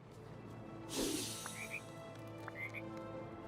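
Two short croaks from a frog in the farming life-sim game Disney Dreamlight Valley, coming at moderate volume over a steady ambient game background after a brief splashy burst.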